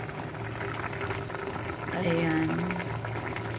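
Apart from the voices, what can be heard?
salmon paksiw broth boiling in a pot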